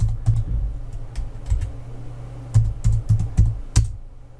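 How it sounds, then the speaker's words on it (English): Computer keyboard typing in irregular bursts of close, crisp keystrokes with short pauses between runs, no voices. "Let's type in here."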